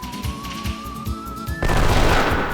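Gunfire during party attacks in the video game Wild Arms 3: a steady game music tone with rapid rhythmic percussive hits, then a dense, loud burst of shooting and explosive noise filling the final second.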